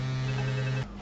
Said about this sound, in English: Sorry about that ringing in the background.